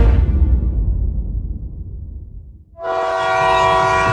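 A train slows and rumbles to a halt in a jungle, its heavy low rolling noise fading before a loud sustained horn blast sounds close by, with no talk.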